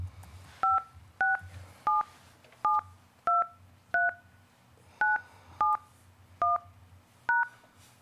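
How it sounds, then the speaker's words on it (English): Ten clear two-tone telephone keypad beeps entering a Google Meet meeting PIN by phone, evenly spaced and fairly loud over a low background hum, with no talking. "Enter the meeting pin followed by the pound key."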